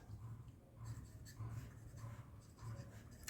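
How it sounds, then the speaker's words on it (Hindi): A pen scratches across paper while a math solution is written out by hand, in short strokes and scribbling bursts that pause between words. The writing is soft and close, with faint talk at times in the background. "तो मैं यहाँ पे लिख लेती हूँ सोल्यूशन"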